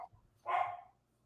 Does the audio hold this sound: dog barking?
yes